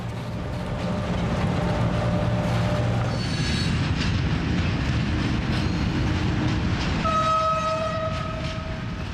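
A CC 1100 electric locomotive pushing freight wagons over the hump of a rail classification yard, a steady loud rumble of rolling wagons with drawn-out metallic wheel squeals rising and falling throughout, no talk.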